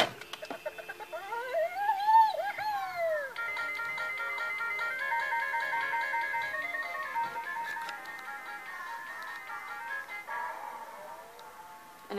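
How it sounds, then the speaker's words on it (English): A handheld electronic toy repeats a bright beeping melody nonstop for about twelve seconds, sounding close and steady with a slightly warbling electronic tone and no talking over it. "I can hear this bloody toy that just keeps playing."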